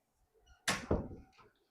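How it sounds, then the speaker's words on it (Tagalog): Door closing in a condominium unit, one firm thud followed by a second knock as it latches, close and clear in a quiet room, with light handling noises before and after. "Sarado natin yung pinto."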